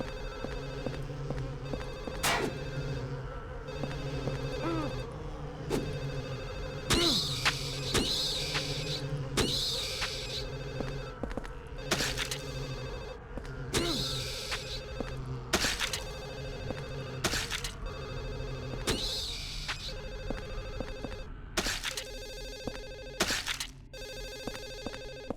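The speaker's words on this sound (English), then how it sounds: "Where is this damn phone?" Telephone ringing inside the horror video game Silent Hill 4, repeated ring bursts recurring through the scene over a steady droning, ominous game soundtrack.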